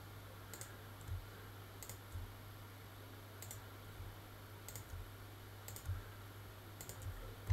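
Sharp mouse clicks with the shift key held, about six of them spaced roughly a second apart, close and quiet over a steady low hum.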